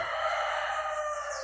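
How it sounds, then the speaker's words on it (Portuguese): A rooster named Lampião crows in one long, loud, drawn-out call heard close by and alone, with no talking over it. "o nome do galo é Lampião, que está cantando ali"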